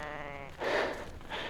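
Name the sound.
ewes bleating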